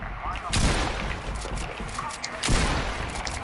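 Automatic gunfire in a video game rings out in loud, dense bursts with a sharp blast near the start and another later, set against a noisy mix of game sound and background voices.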